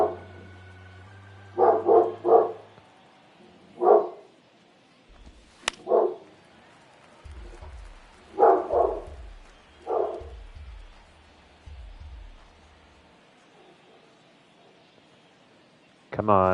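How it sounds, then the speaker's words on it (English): A dog barks repeatedly in short, evenly spaced woofs at moderate distance, about eight barks with pauses between them, over a quiet background hum. "The dog's really upset about the pitching."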